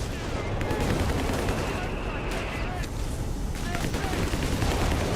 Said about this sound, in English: And then that's the barrage, right?